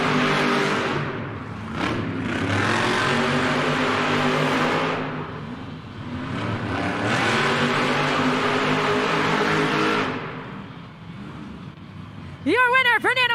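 Monster truck engines roar loud and sustained in two long revving surges at a head-to-head race start line, with an announcer talking over the din and a brief high whine at the end.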